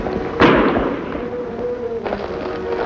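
A gunshot rings out in a Lone Ranger radio drama episode: one sharp, loud crack followed by a rumbling decay, then a fainter second report, with no talk over it.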